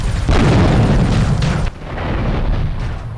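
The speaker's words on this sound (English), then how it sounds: "after taking aim with a rocket launcher, we finally put Catalina to rest" In Grand Theft Auto 3, a rocket launcher explosion bursts loud and close, a broad roaring blast that cuts off sharply and leaves a lower rumbling tail.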